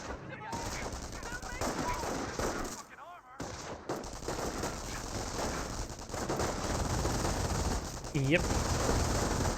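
MG42 machine gun fire from Company of Heroes rattles in bursts amid other battlefield gunfire, with a commentator talking over the shooting throughout.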